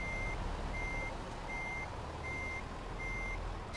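Reversing alarm beeps in a steady repeating pattern over a constant engine rumble as a truck with double trailers backs up in Euro Truck Simulator 2, loud and close throughout.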